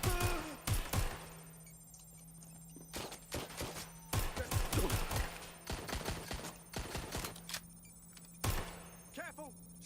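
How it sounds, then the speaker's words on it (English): Gunfire in the video game Watch Dogs: Legion, sharp bursts of shots in irregular clusters over game music and effects, with voices speaking in between. "Shots fired!"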